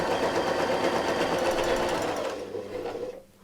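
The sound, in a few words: sewing machine quilting an arc along a circle ruler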